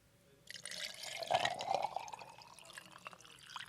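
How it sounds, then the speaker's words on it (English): A drink of happy juice is poured into a glass, a faint trickling and gurgling stream starting after a brief quiet and continuing with small splashes, close and soft. "let me pour this happy juice one more time before we get into the next call"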